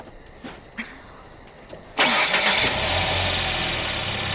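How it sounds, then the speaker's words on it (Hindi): A car engine cranks and catches, starting with a sudden loud roar after a few faint clicks, then settling into a steady close idle, with no talking over it. "क्रिस्टीन, क्या तुम इंजन चालू कर सकती हो?"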